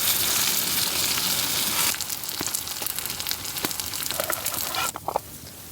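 A sausage meal fries on a camp stove while winter camping in a snowstorm. A loud, steady sizzle carries on throughout, with sharp crackles and pops breaking through up close.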